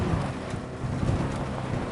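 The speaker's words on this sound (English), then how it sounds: "That is one hell of a storm!" Steady, dense rain with low rumbling thunder in the video game Cyberpunk 2077, a continuous storm roar filling the scene without pause.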